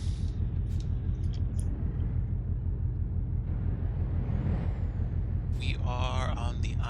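A truck passes along a road on the island of Shikoku, Japan, a steady loud rumble of traffic with a hiss of air brakes near the end, heard from close by amid continuous road noise.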